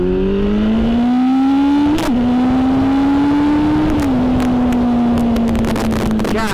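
A 1000cc sportbike engine accelerating hard, loud and close, with a rising droning whine broken by two quick gear shifts, then settling into a sustained high-revving roar with wind rush.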